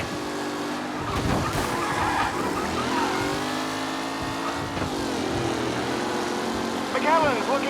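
Race cars in Mafia Definitive Edition skidding and squealing their tires under loud engine roar, with repeated screeches and sliding, revving bursts across the stretch and a sharp squeal near the end, a voice speaking over the action.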